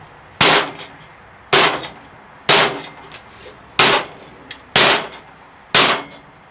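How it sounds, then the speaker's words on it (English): A Cold Steel Bushman knife chops into soft wood, striking not very hard, in six sharp, evenly spaced blows, each a bright crack with a short woody decay and no voice between. "It's hitting that wood, and I'm not hitting this very hard, and it's really gouging that"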